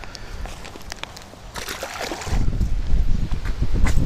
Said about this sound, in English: Whoa, check out this wind